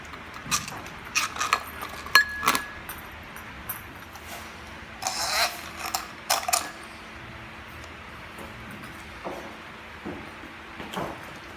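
Crystal chandelier glass pieces clinking as they are fitted, scattered light chinks and taps in irregular bursts, fairly quiet with pauses between handling.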